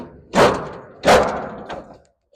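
A heavy steel shipping container door is forced open with two loud metallic clunks about a second apart, then a smaller thump, close and echoing.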